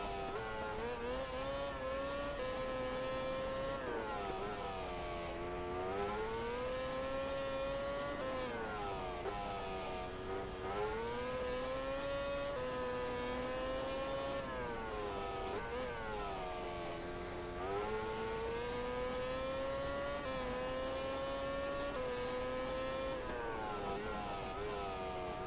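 A racing motorcycle engine at Losail in MotoGP 2013 drones continuously, its pitch rising and falling through repeated gear shifts and revs across the whole stretch.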